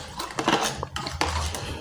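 A spoon clinking and scraping around a basin of eggshell fertilizer water as it is stirred, a few quick irregular knocks close by, no talking.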